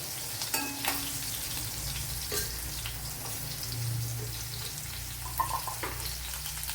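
Mustard seeds and six or seven large garlic cloves fry in hot coconut oil with a continuous soft sizzle, broken by occasional light pops and spatters, close and quiet with no talk.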